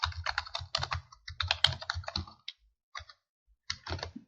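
Bursts of computer keyboard typing as a domain name is entered, fast clustered keystrokes with short pauses between groups, close and clear with no talking.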